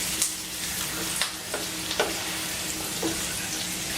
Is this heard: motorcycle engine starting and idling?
no